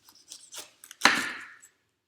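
A knife slices through the bottom of a fresh pineapple on a kitchen board, a few soft scraping strokes and then one firm, crisp cut that drags briefly before fading, close and without talk.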